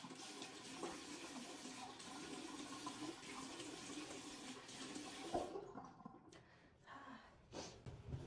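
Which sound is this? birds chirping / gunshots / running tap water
running tap water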